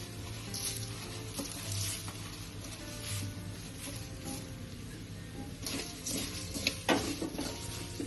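Roasted puffed rice and jowar dhani are tossed with spices, sugar and amchur powder in a pan for chevdo, giving a steady dry rustling hiss with crisp grainy scraping and occasional clinks of the spoon, close and continuous, with no talking.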